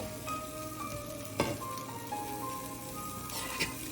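Butter sizzling in a pan while a grilled cheese fries, a continuous crackling sizzle with scattered pops and a couple of sharper spits, close and moderately quiet, with no talking.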